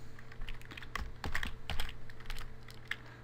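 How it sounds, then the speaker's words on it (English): Computer keyboard keys clacking in quick irregular bursts as a phone number is typed, close and fairly quiet, with a low steady hum underneath and no voices. "I'm going to type in my number"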